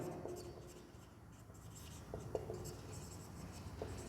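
A pen scratching steadily on paper as a maths solution is written out during an ICSE Class 10 shares-and-dividends lesson, soft and close with a few sharper strokes.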